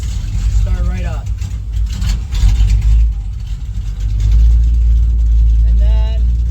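A manual-transmission car engine turns over and settles into a deep, steady idle, its low rumble swelling louder partway through, with faint voices briefly audible over the motor.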